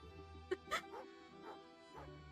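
A dog in the video game Genshin Impact gives a few short yips and whimpers over a steady musical background, with soft breathy sounds between them.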